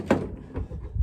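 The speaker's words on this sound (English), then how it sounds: "If I open up the back door" Back door of a Ford Transit Connect camper van swinging open, a single solid thunk up close followed by softer rattles and a low muffled clunk near the end.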